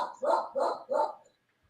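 A pet dog barks three times in quick succession, close and fairly clear, with short gaps between the barks, then falls quiet.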